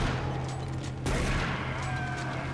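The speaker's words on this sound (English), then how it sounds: "Luckily, a couple shots with the shotgun takes care of it." Gunfire in Doom 3 BFG Edition during a fight with a wraith in the Enpro Plant, a loud blast about a second in over a dense, steady hum of game noise and ambience.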